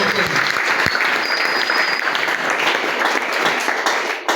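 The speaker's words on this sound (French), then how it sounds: "Est-ce que tu peux acclamer pour toi-même?" Congregation at a Sunday church service applauding and cheering, a dense, steady wash of clapping that stays loud and close throughout, with scattered voices mixed in.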